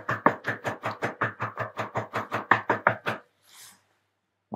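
A steady run of about fifteen firm knocks on a wooden door, close and evenly paced, then a pause with a faint rustle before one more knock starts.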